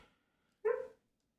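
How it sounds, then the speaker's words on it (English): A sleeping, dreaming dog lets out a single short, muffled woof-like yelp that lasts about a third of a second, followed by silence. "My dog's dreaming here."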